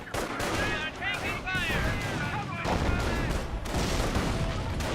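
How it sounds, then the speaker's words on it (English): Mortar fire landing on a rifleman in Company of Heroes 1, heard as dense bursts of gunfire and thudding impacts throughout, mixed with shouted in-game voice lines. "Good mortar hit there on the rifleman."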